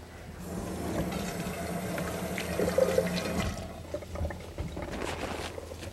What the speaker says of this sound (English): Now I'm going to wash my hands quickly.